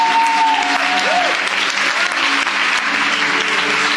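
A church congregation applauding during a French-language service: dense, loud, sustained clapping from a crowd that fills the whole stretch, with voices mixed into it.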